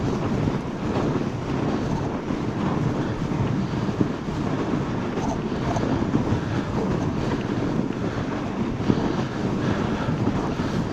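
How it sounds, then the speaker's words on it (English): Fat bike rolling slowly along a cold snowy winter trail, a steady broadband rumble of tires and wind across the microphone, constant and close with no voices. "I love the sound of biking"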